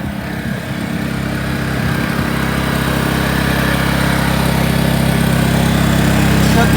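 A generator used to power a well pump runs nearby with a loud, steady, humming engine drone that holds an even pitch throughout, alone with no voices.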